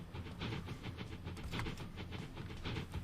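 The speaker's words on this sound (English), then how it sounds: "that is the new train that will be running along here with a capacity of 55" Train rolling along rails in Transport Fever 2, a steady rumbling run with hissing and faint rhythmic clacks, continuous and moderately loud throughout with no talk.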